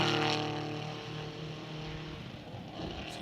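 A Chevrolet Camaro race car's engine accelerating up a straightaway, a loud sustained droning roar that fades slightly as it pulls away, heard on its own without talk.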